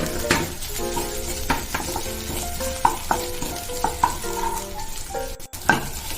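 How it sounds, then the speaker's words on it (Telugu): Ginger garlic paste fries in a pan, a soft sizzle running beneath repeated scraping and clinking strokes of a spoon stirring against the metal. "ఇప్పుడు దీంట్లో అల్లం వెల్లుల్లి పేస్ట్ వేసుకుందాం. దీన్ని పచ్చివాసన పోయే వరకు వేపుకోవాలి."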